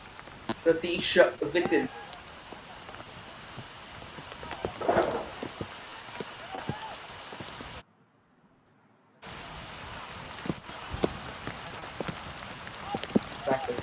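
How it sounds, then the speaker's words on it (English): Heavy rain pours down at an I-League 3 football match in Goa between Kerala United FC and Sesa Football Academy, a steady broadband hiss of rain under a commentator's voice, with a brief dropout partway through. "It has started to pour. It's raining pretty hard."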